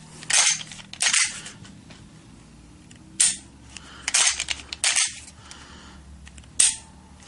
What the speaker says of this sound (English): Put the magazine in, which will push the ejector back up.